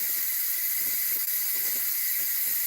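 Steam hisses steadily from an electric pressure canner processing chicken, a continuous loud airy rush that holds unbroken from start to finish.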